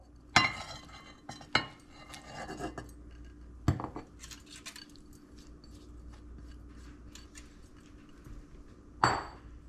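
Roasted vegetables tossed in a bowl, with a few sharp clinks of utensils against the dish and soft rustling and stirring between them, quiet and close.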